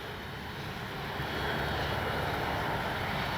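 An FMS 1400mm F4U Corsair RC warbird model flies overhead, its propeller motor giving a steady, fairly distant drone that grows slightly louder as it passes, with light wind noise and no talking.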